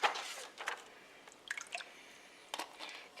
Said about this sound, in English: Now I'm going to take the reserved liquid from the tomatoes